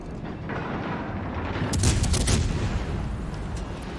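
Rumbling naval gunfire from a battleship in World of Warships Legends, a dense continuous barrage with heavier booming blasts building in the middle, loud and sustained throughout.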